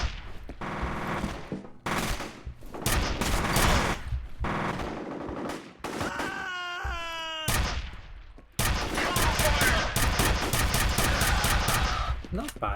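Loud, close bursts of rapid automatic gunfire from a weapon in the shooter game F.E.A.R. Perseus Mandate, repeated in several volleys with short gaps and a brief wailing tone between them.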